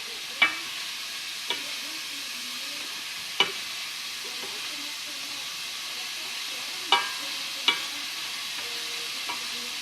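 Mushrooms sizzle steadily in a pan with a continuous frying hiss, while a spoon stirs and scrapes against the pan every few seconds, close up with no talking.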